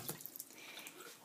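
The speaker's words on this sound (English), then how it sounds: "And then I wash my hand with soap." Tap water runs softly from a faucet while a hand is washed with soap during home care of a surgical drain, a quiet, steady splashing with small drips.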